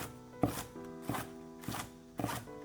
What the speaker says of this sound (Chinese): 几颗小葱切成葱花。